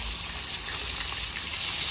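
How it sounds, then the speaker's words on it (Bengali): Fish fries in plenty of hot oil, sending out a loud, steady sizzle and spatter that fills the whole moment without pause, close up. "তাড়াতাড়ি মাছ ভাজলে এরকম হয়, একটু ছিটে যায় চারদিকে।"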